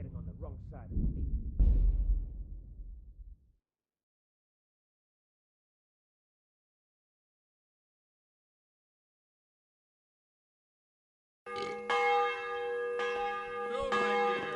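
A bell rings out loud and resonant with shimmering overtones near the end, in the video game Kingdom Come, following a voice and a long silence.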